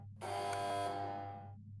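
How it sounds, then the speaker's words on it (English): An electronic alarm buzzer sounds one pulse, a bright harsh tone that starts abruptly, holds for about a second, then fades smoothly away over a low steady hum. "even if I turn off the alarm mid-pulse, it finishes its current pulse and doesn't just cut off suddenly"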